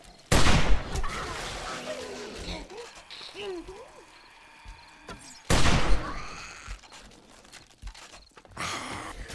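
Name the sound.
rifle gunshots in 7 Days to Die video game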